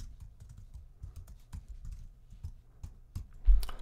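A computer keyboard is typed on nearby, quick soft key clicks in uneven bursts, with a louder thump near the end.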